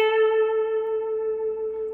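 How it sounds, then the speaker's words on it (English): One sustained electric guitar note rings on the B string at the 10th fret, clean and steady with light reverb, and fades slowly over two seconds. "And then we play with our first finger the B string 10th fret."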